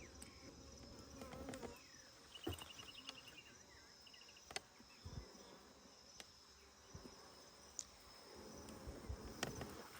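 A swarm of honeybees rescued from a hollow tree trunk hums and buzzes steadily outdoors, with scattered thumps and handling knocks over the drone and a few short rising whines from individual bees flying close by.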